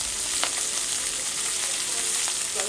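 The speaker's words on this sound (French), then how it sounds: "ils vont griller dans le beurre qui a servi à rôtir le homard" Pieces of Breton lobster sizzle in butter left from roasting the lobster in a pan, a loud, even, continuous frying hiss with a couple of faint clicks and no talk.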